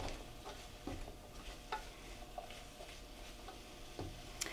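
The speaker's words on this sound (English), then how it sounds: "So we'll add our broccoli. We'll give that a little stir." Broccoli being stir-fried in a crowded pan of vegetables, a soft steady sizzle with scattered clicks and scrapes of stirring, fairly quiet and close.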